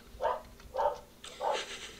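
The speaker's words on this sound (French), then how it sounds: "on entend votre chien ce matin" A dog barks three times, close by in a room indoors, in short evenly spaced yaps with a quiet hum beneath.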